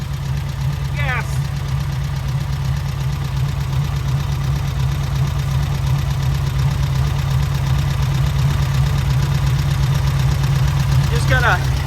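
A 1970 VW Westfalia engine running just after installation, a steady low idling drone with a regular beat throughout, with two short chirpy sounds near the start and end.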